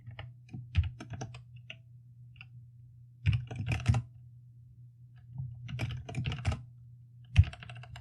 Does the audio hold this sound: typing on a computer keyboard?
yes